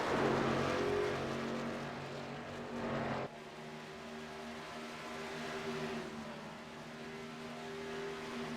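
Racing trucks in a NASCAR Truck Series race at Homestead-Miami Speedway, a steady engine drone with a brief louder surge and a sharp drop in tone near the start, then a sustained roar.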